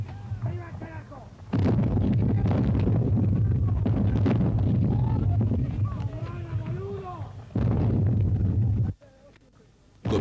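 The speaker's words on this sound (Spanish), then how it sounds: "Comienza el desigual duelo de artillería." Falklands War artillery duel with heavy gun blasts, each ringing out as a loud boom with a long tail, spread across the scene amid shouted commands and voices.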